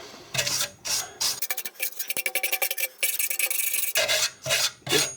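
A wire brush scrubs the back of a Mercedes rear brake backing plate in quick, harsh rasping strokes, close and loud, with short bursts separated by brief pauses and a faster run of scratchy strokes in the middle.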